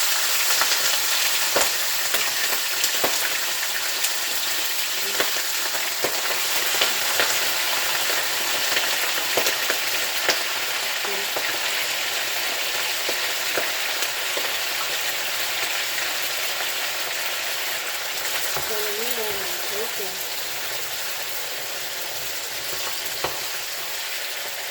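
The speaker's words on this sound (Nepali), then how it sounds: "मैले मासु लाउँदैछु" Pork pieces sizzling and frying steadily in smoking-hot oil for pork achar, a continuous dense crackle and spatter close up, with occasional stirring scrapes and no talking.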